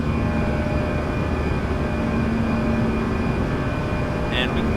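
Airbus A320 airliner engines during climb after departure, heard from inside as a loud, steady broadband roar with a constant tonal hum, continuous throughout with a brief brighter hiss near the end.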